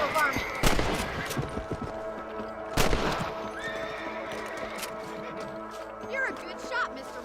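A horse whinnies and its hooves clop in the Red Dead Redemption video game, with a few sharp gunshots cracking nearby and a voice talking over the mix.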